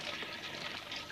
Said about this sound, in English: I had to flush you down the toilet